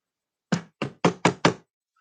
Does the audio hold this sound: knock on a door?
yes